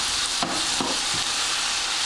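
Calzone filling sizzles steadily in a hot pan, a continuous close hiss with a few soft stirring scrapes breaking through.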